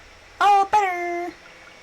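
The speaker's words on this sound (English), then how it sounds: "I don't know if we should take milk from a sick cow" A cow in the Coral Island farming video game gives a short two-part moo, a brief rising note then a longer steady tone, clear and close against a quiet background.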